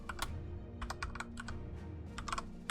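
Quiet, close typing on a computer keyboard during a Battle Brothers gaming session, with irregular bursts of rapid key clicks separated by short pauses.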